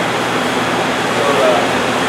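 Pool water spills from the overflow and runs back into the pool at an aquatic center's equipment area, a loud, steady rushing wash with no break.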